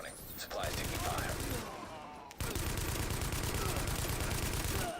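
Sustained gunfire from The Division video game, dense rapid bursts and volleys that pause briefly midway and then resume just as heavy, loud and close, with a voice speaking over the shooting.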